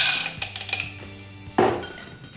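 Large ice cubes clink against a rum swizzle cocktail glass in a quick series of sharp, bright taps, followed by a heavier knock, all close by and without talk.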